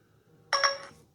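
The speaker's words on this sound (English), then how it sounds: "New text message received." A short bright phone text-message chime rings out once, clear and close, with a couple of quick stacked tones over a quiet background.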